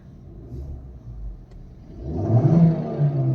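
A CNG-powered Toyota Urban Cruiser's engine idles with a low rumble, then swells as it accelerates, the revving growing louder and fuller over a few seconds with no talk.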